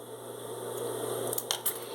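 Scissors snip notches into a fabric seam allowance while a shoulder bag is sewn, two or three quick crisp cuts near the end over a steady hum, close and moderately loud.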